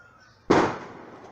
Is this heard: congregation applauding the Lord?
no